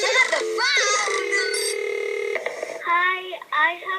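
A telephone call goes through on a radio show: a run of bright electronic dialing and ringing tones, some sliding in pitch, then short tonal bursts near the end, clear and up front with no plain talk.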